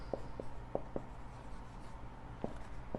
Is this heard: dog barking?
no